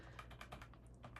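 Rapid computer keyboard typing with clicks, quick uneven keystrokes close to the mic during audio and video setup, no talking.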